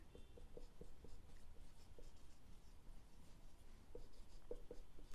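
Pen scratching across paper while bookkeeping entries are written out, a faint, close run of quick strokes with short pauses, alone and quiet.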